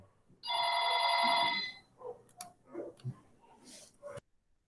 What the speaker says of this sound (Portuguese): Só um minutinho, gente, o telefone está tocando aqui.